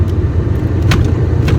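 A car's low engine and road rumble fill the cabin while driving, steady and loud from inside, with a couple of brief faint higher sounds over the drone.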